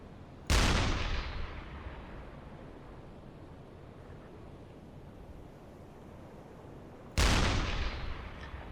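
Submarine deck gun fires shells in the UBOAT naval game, two heavy booming shots several seconds apart, each followed by a long rumbling decay over sea ambience.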